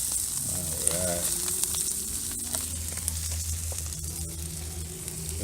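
Burgers frying on a brick rocket stove, outdoors: a steady close sizzle and crackle of meat on the hot surface, with a few sharp pops and a low fire rumble underneath, no talk.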